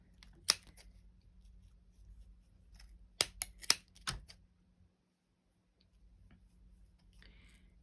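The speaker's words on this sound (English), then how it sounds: "we're gonna start cutting those loops" Scissors snip the yarn loops on the edge of a small crochet pet jumper, giving sharp isolated clicks close by: one early, then a quick cluster of three or four, followed by quiet.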